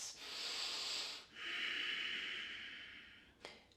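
Deep breathing during a yoga pose: two long, close hissing breaths, one out and one in, each lasting over a second, followed by a brief faint puff of air.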